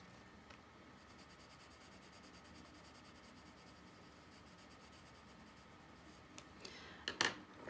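Colored pencil shading over paper with a cinnamon-colored pencil, a steady soft scratchy rubbing that continues close up and evenly, ending in a few louder scrapes.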